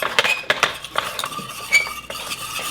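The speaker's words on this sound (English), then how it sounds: "Make sure you scrape the sides really good." A metal spoon stirs and scrapes around the sides of a pot of béchamel sauce, giving repeated close clinks and scraping strokes in a steady rhythm with no talk.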